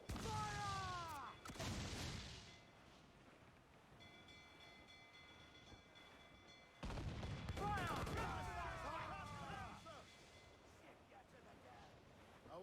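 Ship cannons fire at frigates in the naval combat of Assassin's Creed IV Black Flag, with loud booming volleys in two bursts separated by quieter stretches, while crew voices shout over them.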